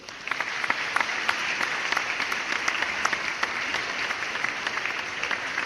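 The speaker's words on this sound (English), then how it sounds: "Insert applause here." Applause is inserted into a tabletop RPG podcast, steady clapping from a crowd with distinct individual claps standing out throughout.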